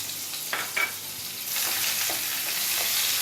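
Finely chopped onion frying in a spoonful of hot oil over low gas, a steady dense sizzle that swells louder partway through, with a few faint stirring clinks and no talking.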